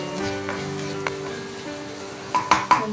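Chopped onions sautéing in a pan for a stuffed omelette with spinach and sausage, a steady close sizzle broken by a few clinks of stirring near the end.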